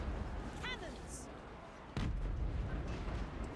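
Cannon fire in a video game battle: a few booming blasts, one sharp heavy boom near the middle followed by sustained rumbling, with background battle noise throughout.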